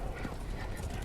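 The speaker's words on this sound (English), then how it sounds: "I think I can make out a sound of galloping hooves" Galloping hooves of spectral horses carrying ghostly hunters through a stormy forest in the video game Lovewood, a steady low rumbling clatter that holds evenly and fairly quietly throughout.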